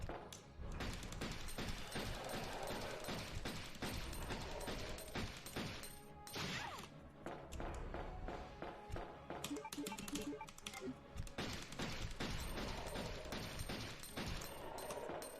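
Handgun fire in Resident Evil 2 in a dense, continuous run of sharp shots and impacts layered over loud game music and effects, with no clear talk.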